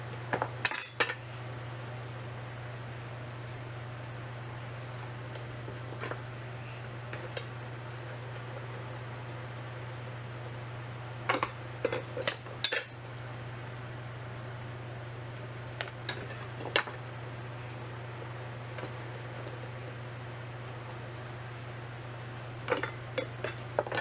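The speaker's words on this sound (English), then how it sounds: "you use your board to hold it down, jerky knife right here on the edges, and just work your way through it" A jerky knife works through deer meat held against a cutting board, giving sparse light knocks and clinks against a steady low electrical hum.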